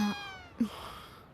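A pet cat held in someone's arms meows twice, a short cry and then a longer, rising one, close and fairly soft against a quiet room.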